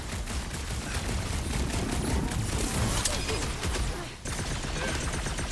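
Sustained, dense sci-fi gunfire from a Marvel's Guardians of the Galaxy battle against Nova Corps, loud and rapid with overlapping shots and a brief dip before the firing resumes.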